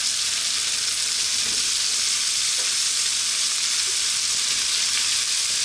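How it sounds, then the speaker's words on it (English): Steady, loud sizzling of rice frying in a hot pan for bell pepper fried rice, with faint stirring scrapes beneath the continuous hiss and no voices. "Now we're gonna put the rice in the pan and cook it."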